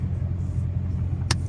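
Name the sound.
car with tuned 5.7 Hemi engine sliding through a corner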